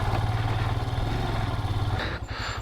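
A Royal Enfield Himalayan labours up a steep off-road slope, its engine giving a low, steady thumping drone close by, with a rougher, choppier beat and some clatter near the end.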